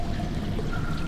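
A steady, continuous stream of water pours from a tap in the video game Syberia 3, an even rushing splash at moderate level with no break or talk.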